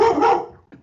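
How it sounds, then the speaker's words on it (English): A single dog gives one loud, sharp bark close by, followed by a brief softer yip that trails off in a quiet room. "That's not my dog, I promise you."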